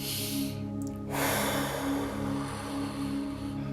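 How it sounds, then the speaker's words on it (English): Full, deep breaths drawn in and pushed out with a broad airy rush, close and steady, over a constant low hum with no talking. "We want full masculine deep breaths"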